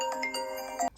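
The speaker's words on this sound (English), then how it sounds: "Okay, I had a phone call." A mobile phone rings with an incoming call during a makeup session, a steady electronic ringtone pattern with repeating tonal notes that cuts off abruptly near the end.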